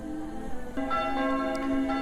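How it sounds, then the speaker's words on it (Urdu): Old church bells ring out ahead of worship, their tolling tones sustained and layered over a steady outdoor hum, with a fresh stroke entering partway through and swelling the resonance. "تو یہ ایک پرانی چرچ ہے بہت زیادہ، آپ کو گھنٹیوں کی آواز سنائی دے رہی ہیں، ادھر عبادت کا ٹائم ہو گیا ہے"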